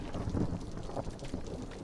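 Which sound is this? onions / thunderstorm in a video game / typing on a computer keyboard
thunderstorm in a video game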